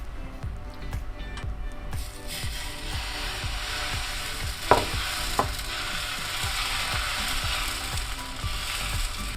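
Beetroot oats dosa batter sizzles steadily on a hot tawa over a high flame, a continuous crackling fry with faint clicks and rattles throughout and a couple of brief sharper pops midway.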